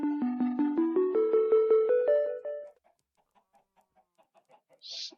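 A chicken from a Minecraft chicken spawner gives a run of about a dozen rhythmic clucks that rise in pitch, followed by quieter, scattered clicks and a short hiss.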